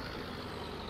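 Steady, continuous tractor engine drone from Farming Simulator 17, running with a cultivator hitched on, a dense low rumble that holds level and fairly loud through the brief moment with no talk over it.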